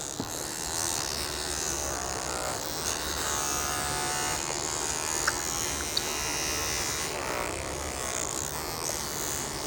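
An electric vibrating brush buzzes steadily against a child's face during oral motor exercises, a continuous close hum with faint voices murmuring underneath.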